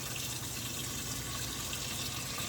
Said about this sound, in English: I had added some water, but I think I'm going to add just a little bit more.